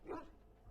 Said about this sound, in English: This is literally a rescue dog.